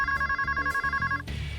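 A cell phone rings with a repeating electronic trill, steady pulses over about a second, fairly quiet and alone before it cuts off.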